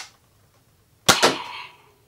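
A toy foam dart blaster fires a single dart: one sharp, loud crack followed by a quick second snap and a short fading rattle, preceded by near silence.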